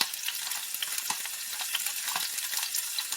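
Sliced red pepper tossed into a greasy frying pan with red onions sizzles steadily up close, a dense crackling hiss with small pops and no talk.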